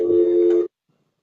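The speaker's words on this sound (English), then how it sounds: "I'm so sorry for the phone ringing" A telephone rings indoors with a steady electronic tone, one loud burst lasting just over half a second before cutting off into silence.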